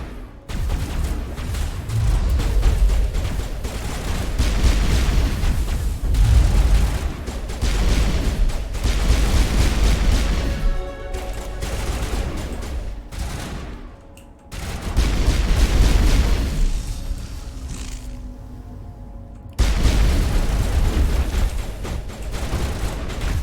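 Gunfire in the video game Mass Effect, soldiers shooting at rocks, dense sustained volleys of loud shots in long bursts with brief lulls between them.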